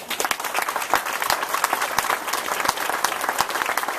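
A rally audience at a Texas faith and freedom event applauds to welcome a speaker: dense, sustained clapping from a crowd, steady throughout with no pause.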